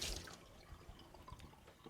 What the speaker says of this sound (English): just run it under hot water